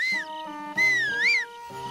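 A whistle sounds in a Zelda video game to call a horse, with a rising and falling tone in two clear bursts over a game music bed.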